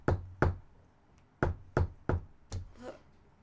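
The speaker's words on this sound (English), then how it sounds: "as you're doing this, you also hear this knock like a" Knocking on a door, likely at a hut, comes in two pairs of sharp raps followed by a pair of softer knocks, close and fairly loud against a quiet background with no talking.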